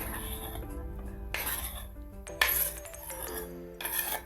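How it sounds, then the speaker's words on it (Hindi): Muskmelon pieces tipped gently into a bowl for fruit chaat, giving soft clinks and knocks of a utensil against the bowl in a few short bursts with quiet gaps between. "अब हम खरबूजा इसमें डाल रहे हैं, आराम से डाल रहे हैं।"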